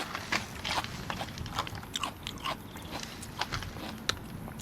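Noisy Japanese-style eating, with loud wet slurps and chewing bites in an irregular, close-up rhythm, and no talk over it.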